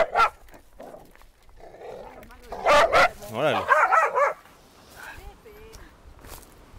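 Small dogs bark excitedly in bursts of yips and bow-wows, loudest in the middle, with someone talking over and between the barks.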